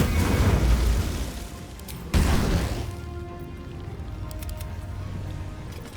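A fire spell bursts in a Baldur's Gate 3 battle against skeletons, Lorroakan and Aylin: a loud booming blast, a second sharp impact about two seconds in, then a roaring rumble that fades to a steady low hum.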